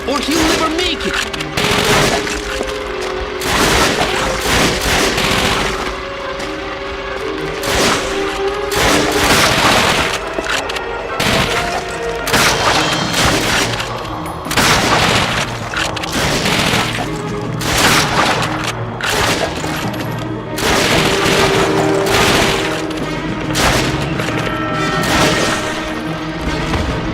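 PlayStation 2 war game battle with near-constant gunfire and booming explosions against German soldiers, dense and loud throughout, with voices speaking amid the shooting.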